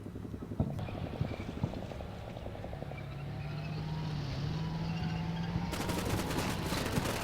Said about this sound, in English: Incoming fire over here.